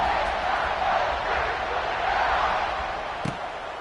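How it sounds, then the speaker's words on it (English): A large football stadium crowd roars and buzzes continuously after a score, a dense, even wash of many voices with one brief thump near the end. "this crowd is buzzing after that last score"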